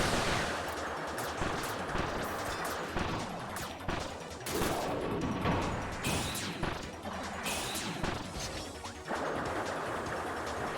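Rapid gunfire and crashing impacts in Kirby's Return to Dream Land Deluxe, dense bursts of shots and hits running continuously at a steady loud level with no talking.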